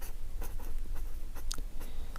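Quick scratchy writing strokes during a Class 10 maths lesson, a few short bursts spread across a couple of seconds, close and fairly quiet over a low steady hum, with no voices.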